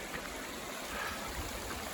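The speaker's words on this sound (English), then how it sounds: "Beautiful streams." Faint, continuous rush of a mountain stream flowing along the John Muir Trail near Kearsarge Pass, a soft even babble without voices.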